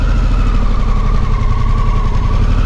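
A motorcycle engine idles close by while the bike is parked, a loud, steady low rumble with a faint pulsing throb and no talking.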